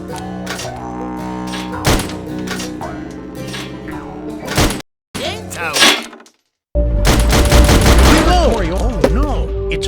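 Rapid bursts of gunfire from the shooting game Sam & Max: This Time It's Virtual, loud and dense, broken by brief silences, with musical tones and a voice in places.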